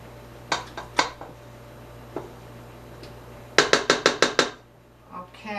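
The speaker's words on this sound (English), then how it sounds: "I'm just going to use my spatula and try to get around here because it has a tendency to stick to the sides" A spatula knocks and scrapes around the sides of a mixing bowl of sugar-free peanut butter cookie dough, giving scattered clinks followed by a rapid run of six bright taps, then a soft scraping swish.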